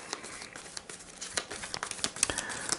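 Game cards for the Arkham Horror board game crinkle and riffle in a string of short, close, papery snaps with uneven rhythm, fairly quiet and with no voices.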